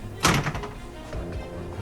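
A closet door in a hotel room is opened, giving one close thunk followed by a softer rattle and faint handling sounds, with no voice.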